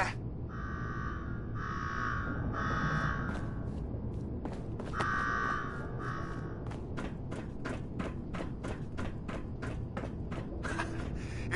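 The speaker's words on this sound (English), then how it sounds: "go shut off that damn alarm" An alarm going off in the Fallout 4 Nuka-World game: repeated electronic buzzer bursts in uneven groups, then a fast run of sharp clicks or ticks, steady and moderately loud over a low rumbling room tone.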